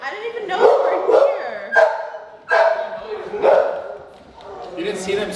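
Dogs released from a room give repeated yips, whines and barks in a busy household kitchen, heard close up amid overlapping human voices.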